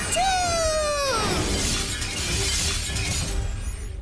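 Plates shattering and breaking in a loud, sustained crash of splintering ceramic and tinkling fragments, preceded by a falling whistle-like tone.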